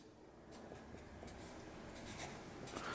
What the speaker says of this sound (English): I'd write out my affirmations